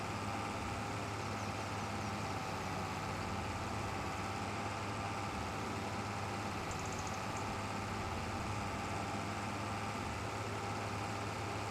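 Tractor engine idling in Farming Simulator 25, a steady low drone that holds evenly and unbroken throughout, with no talk over it.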